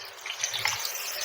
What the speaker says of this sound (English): The water literally comes out yellow, honey, yellow.